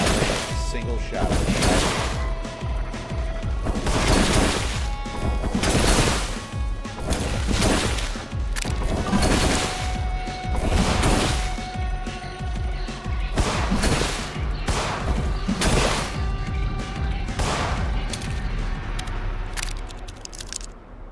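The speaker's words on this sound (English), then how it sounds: "Single shot." Single gunshots ring out in the horror game In Sound Mind, a steady string of loud, sharp blasts spaced roughly every second or two with a constant background drone beneath.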